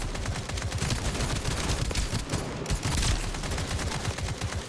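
Enemy shotgun fire in the video game Escape From Duckov comes as a dense, rapid stream of gunshots. The shots sound loud and close and keep going without a break across the whole stretch.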